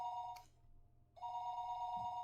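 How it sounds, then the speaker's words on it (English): A telephone rings in the Higurashi visual novel game: a bright electronic double ring, a short pause, then another ring. It is clean and clear with no voices. "Phone rang noisily downstairs."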